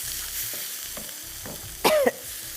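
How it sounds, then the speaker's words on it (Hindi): Tomato puree masala frying and being stirred in a pan for a chicken 555 gravy, a soft steady sizzle with scraping stir strokes and a brief louder burst near the end. "अभी पहले इसको मसाले को भून लें।"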